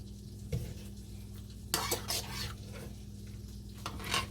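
Garlic tossed and stirred into oil and peppers in a pan, with soft scraping, a few sharp clinks of utensil on cookware and a faint background hum, no talking.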